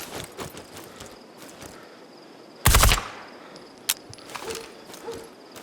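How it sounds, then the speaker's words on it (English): Gunfire in the tactical shooter Ground Branch: scattered sharp shots, one loud close burst in the middle and a later crack, between quieter movement and ambient noise. "That's not good shooting"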